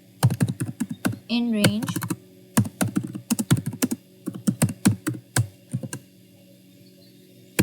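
Computer keyboard typing while writing code for an A Level Computer Science exam problem, with bursts of rapid close key clicks in irregular clusters and pauses, and a brief spoken phrase partway through.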